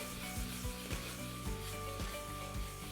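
Radish stir-fries in a pan with turmeric and chili: a steady sizzle with repeated scraping and tossing strokes of a spatula at a loose rhythm, close and continuous.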